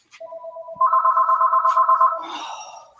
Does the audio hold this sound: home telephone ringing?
yes